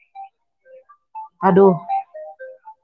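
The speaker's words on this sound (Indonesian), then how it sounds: "Uni sebentar ada telepon" A phone ringtone for an incoming call chimes as a short melodic run of beeping tones, with a woman's brief exclamation cutting in midway.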